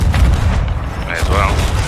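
A gunpowder barrel blows up in a pirate-ship video game, a deep rumbling boom with a continuous low roar and scattered crackle. Voices are briefly heard over it.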